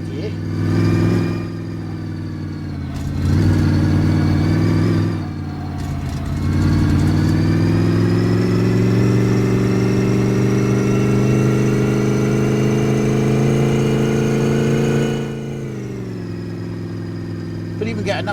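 An old Ford Focus engine labours uphill in second gear, a steady droning hum that rises and holds as the car climbs, with brief dips and someone talking over it.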